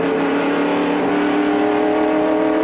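A stock race car at full throttle on a race restart, its engine a loud, steady, harmonic drone holding strong and close throughout with no one talking.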